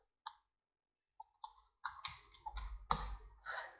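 Keys tapped on a computer keyboard while a 12-digit Aadhaar number is entered, a few sparse isolated clicks followed by a denser burst of quick keystrokes, close and quiet, with no speech.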